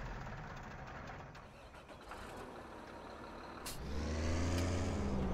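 JCB machine engine in Farming Simulator 17, a truck-like diesel idle that swells louder and deeper partway through as the engine revs up, steady and close.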